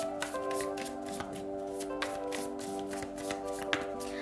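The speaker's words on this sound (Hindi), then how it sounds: "शफल कर लेते हैं कार्ड्स को ऑप्शन 3 के लिए" Tarot cards are shuffled by hand in quick repeated riffles and taps over a steady soft musical background, with no talking.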